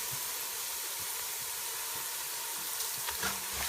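Steady sizzling in a pot of hot oil as whole spices are stirred in, garam masala, Comorian masala, cinnamon sticks and whole cloves, a continuous hiss with a few soft scrapes near the end, no talking.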